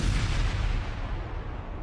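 Cartoon explosion sound effect in a Bugs Bunny tribute, a loud, dense rumbling boom that fills the clip and rolls on without a break, heavy in the low end, with no voices over it.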